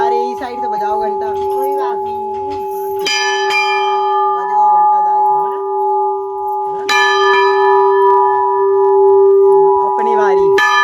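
A temple bell rung at a new mandir in Uttar Pradesh clangs loud and near, with two strong strikes whose bright ringing tones hang and decay, while people talk over it between the strokes.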